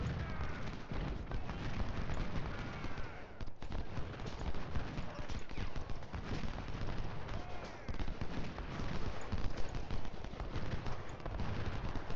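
Cavalry horses galloping in the Civil War strategy game Ultimate General Civil War, steady hoofbeats mixed with scattered rifle and artillery fire across a noisy battlefield, with faint voices underneath.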